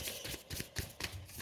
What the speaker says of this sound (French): Allez, je reprends mes cartes.